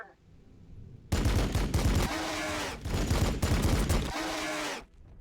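Dense, loud gunfire from the Warhammer 40,000: Battlesector strategy game, a Blood Angels versus Tyranids battle, erupting after a quiet second in sustained bursts of rapid shots with brief gaps, then cutting off near the end.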